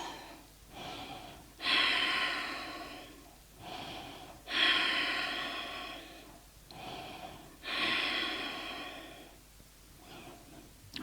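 Deep breaths during a hips and lower back yoga session, three long slow cycles of audible inhale and exhale, close and breathy, with no talking.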